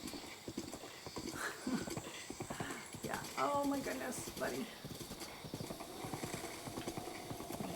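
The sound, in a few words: animal Blot running, hoofbeats in a video game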